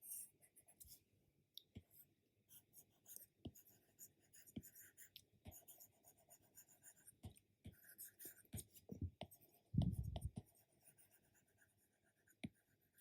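Chalk or marker writing on a board in a lecture hall, scattered taps and scratchy strokes with quiet gaps, faint and close, ending in a louder rubbing stroke.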